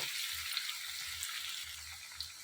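Green chillies and curry leaves sizzle in hot oil in a pan, a loud, steady, close frying hiss with soft low thumps as they are tossed, no voices.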